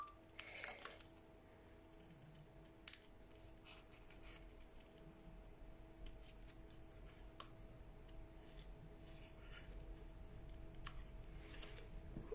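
Scissors snipping through paper card for a snowball greeting card, a few sharp close cuts scattered over a quiet background with a faint steady hum.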